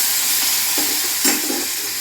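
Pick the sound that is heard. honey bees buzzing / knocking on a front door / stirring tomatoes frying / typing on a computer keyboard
stirring tomatoes frying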